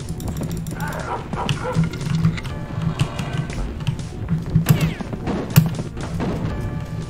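Barks from a dog-form player character in the Rise of the Triad: Dark War shooter during a dog-mode power-up, landing in a few loud bursts over busy game sound effects and thuds.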